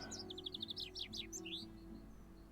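A chaffinch call plays in the Wingspan board game, a quick run of bright repeated chirps descending into a flourish, clear and close over a low steady background hum.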